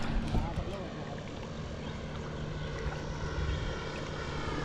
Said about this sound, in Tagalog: Pero may airplane doon, no?